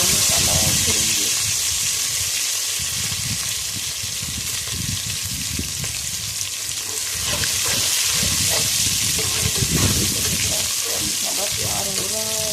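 Whole spices and garlic paste sizzle in a pan as garam masala goes in, a steady, close frying hiss with bubbling that rises and falls while a voice talks faintly in the background.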